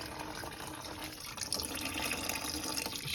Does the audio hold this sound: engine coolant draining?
yes